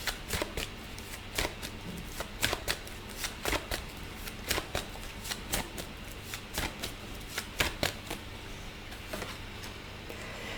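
Tarot cards shuffled by hand in a steady run of crisp riffling flicks, close and moderately quiet, with no talking.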